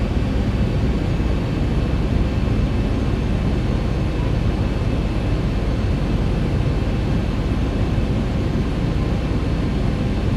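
A ZIBO P-8 Poseidon simulated in X-Plane 11 on final approach to land, a loud steady jet engine roar and airflow rumble holding constant throughout with no talk.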